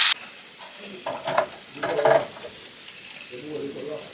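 Burger patties fry in a pan, with intermittent bursts of sizzling and faint scraping as they are turned, close and without talk.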